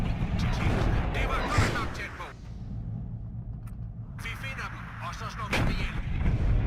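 Artillery guns in the WARNO war strategy game fire repeatedly in loud booming salvos with rumbling echoes, heavy bursts at the start and end and a quieter stretch between, while a voice talks over part of it.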